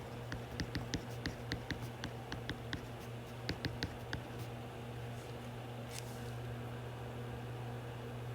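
Pen or marker writing out a calculation by hand, a run of short faint scratchy strokes in quick irregular bursts over a steady low hum, no voices.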